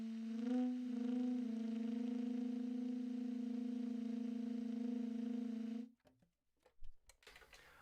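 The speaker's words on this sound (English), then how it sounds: "I hear these called more like whisper tones because they're not fully present." A saxophone plays a soft, breathy whisper tone, fingered as low C sharp with the left index finger lifted. One steady pitch holds for about six seconds, then cuts off, leaving faint noises.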